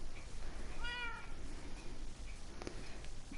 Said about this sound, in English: I forgot my cats are following me.